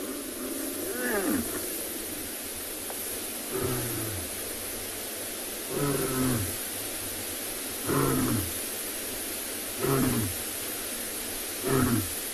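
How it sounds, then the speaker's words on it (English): A male lion roars on a South African safari, a series of six deep, strained grunting roars repeating every two seconds or so, moderately distant over a steady background hiss. "I feel like also he sounds like he's struggling to even give it a good roar"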